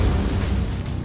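A Dragon's Breath spell blast in the dungeon-crawler game Grim Tides, a single loud broad burst of roaring noise that fades slightly over about a second.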